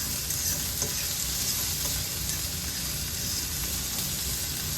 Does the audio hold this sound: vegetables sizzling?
yes